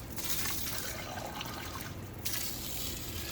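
Filtered hose water from an RV inline filter runs steadily into a glass, a continuous close trickle and splash that shifts in tone as the glass fills.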